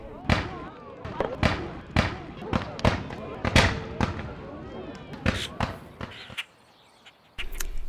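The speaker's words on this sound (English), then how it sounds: "Fire Roman candles into the woods after dark" Roman candles fired into the woods after dark, a rapid run of sharp popping bursts, about a dozen loud cracks at uneven intervals, then a short hush and another burst.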